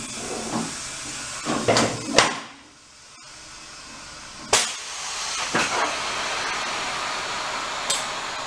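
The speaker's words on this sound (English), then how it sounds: "Yeah, I'm just gonna air up the tires." Air hissing while a moped's tires are inflated, a broad hiss broken by several sharp bursts and a brief pause partway through, fairly close and with no talk over it.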